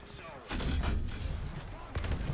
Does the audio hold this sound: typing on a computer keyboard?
no